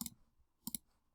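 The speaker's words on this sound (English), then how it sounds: "we're just going to type" Keyboard typing while scripting a game enemy, a few quiet close clicks in two small bursts, the second a quick double tap, with near silence between.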